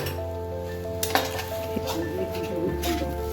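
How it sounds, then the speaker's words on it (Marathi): Grated coconut and poppy seeds are stirred into onions in a pot, a steady sizzle under a hum with scraping and light clinks of the spoon against the metal. "खसखस ते कांद्यामध्ये चांगलं मिक्स करून घ्यायचं"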